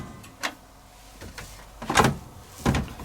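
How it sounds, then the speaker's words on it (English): A Miele T4659C semi-integrated condenser dryer: button press clicks followed by the door releasing and swinging open with a couple of solid knocks, close up, no talking. "To open the door, you push this door button here."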